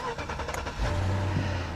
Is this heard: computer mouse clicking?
no